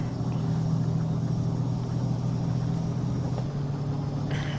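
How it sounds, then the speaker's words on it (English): Peterbilt 357 heavy hauler truck in American Truck Simulator, its engine droning steadily with a deep, constant rumble as it accelerates hard under a heavy load, close and loud with no talk. "I could just put my foot down. And this thing accelerates even with the heavy load on her back pretty damn nicely"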